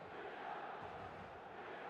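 A video game match-day stadium crowd roars in a steady, distant wash of cheering and chanting, with no clear voices standing out.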